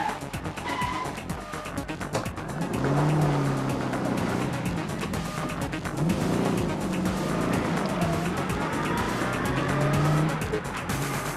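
A 1977 Holden Torana A9X drives past at a classic car rally in Adelaide, engine note rising and falling loudly over steady crowd and road noise, with a whine sweeping through the run.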